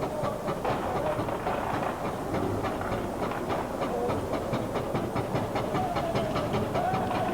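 A vintage steam fire engine pumping water at a 1988 London Fire Brigade open day display drill, giving a steady, loud chugging with rapid rhythmic beats and a constant hissing rush that continues unbroken, with no talking.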